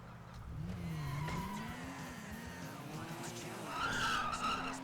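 A car on a test drive in the FiveM game skids, with sustained tire squeal wavering over a steady engine drone and a sharper, louder screech near the end, heard without speech.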